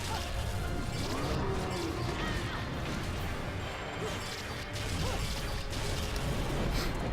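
Rapid, heavy impact hits as Bayonetta pummels an enemy, dense crashing and whooshing strikes layered over busy game music and effects, continuous and loud throughout.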